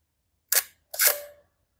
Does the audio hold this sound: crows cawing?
no